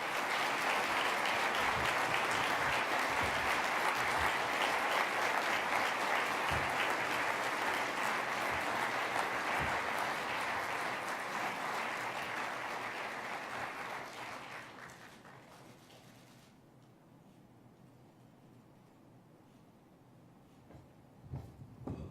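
At the 2019 PEN/Hemingway Award ceremony, an audience claps steadily and loudly for about fifteen seconds before the sound fades into quiet room tone with a few faint knocks.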